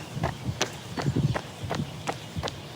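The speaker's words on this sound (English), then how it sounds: "And I can hear my footsteps" Close footfalls of a runner outdoors beat in a regular rhythm of light thuds over a steady ambient hiss.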